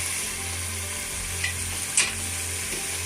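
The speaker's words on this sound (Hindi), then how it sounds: "साथ साथ मैं इसमें चम्मच हिलाती जाऊँगी और तेज़ आग पे पकाऊँगी" Gobi gosht, a cauliflower and meat curry, cooks over high heat with a steady, close sizzle and a couple of brief spoon scrapes as it is stirred, with no talking.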